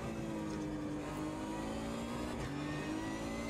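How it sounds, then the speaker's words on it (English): A GT1 race car in the Automobilista 2 sim racing game holds a loud, steady engine note, its pitch climbing gradually under throttle, with a faint dip near the end and no speech. "They got such a beautiful engine note. It's a joy to rev it."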